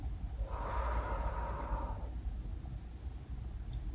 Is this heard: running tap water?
no